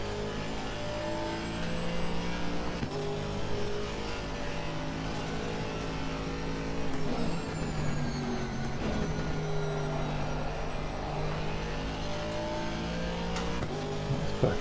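Aston Martin race car in Assetto Corsa Competizione, its engine droning steadily throughout with harmonic tones rising and falling through gear changes, loud and continuous with no talk.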